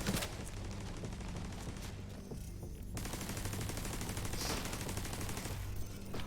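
Turret gunfire in The Division 2, sustained rapid automatic shots with a brief lull partway through and then a return to continuous loud firing, with no talk.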